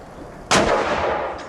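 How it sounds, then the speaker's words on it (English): Ceremonial guns fire at Omaha Beach during a D-Day 75th anniversary remembrance service: one sharp, loud blast that rolls off into a long, fading echo over steady outdoor background noise. "the guns over Omaha Beach rang out in remembrance"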